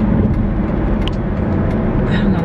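Steady road rumble of cars in traffic heard from inside a moving vehicle, loud and continuous with a faint hiss above the low drone.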